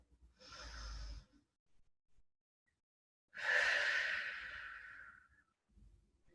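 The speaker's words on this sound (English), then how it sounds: "One more deep breath." One person draws a deep breath during a Pilates workout, with two separate breathy bursts, a short one followed by a longer, louder exhale, close and alone in an otherwise quiet room.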